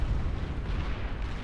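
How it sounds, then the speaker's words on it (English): A fusion reactor blows up in a real-time strategy video game, a deep sustained rumbling blast that rolls on heavily and evenly, with no one speaking over it. "epic fusion reactor creating an epic explosion, denoting the unceremonious death of the blue team"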